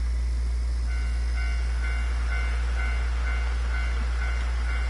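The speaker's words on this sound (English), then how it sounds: "there it is, the sound of a railway crossing" Railway crossing bell chiming at a steady repeating rhythm over a low constant hum, with train sounds in the Nostalgic Train video game, moderately loud and without talk.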